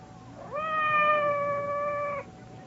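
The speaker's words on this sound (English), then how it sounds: "It sounded like Madame's cat, Francois." Just outside a door, the cat Francois lets out one long, drawn-out meow that holds steady before cutting off cleanly, clear and fairly near with no voices.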